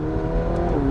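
A McLaren 720S Spider in track mode accelerating hard, a steady loud engine drone with rising harmonics and a brief shift transition near the end, heard close up without talking.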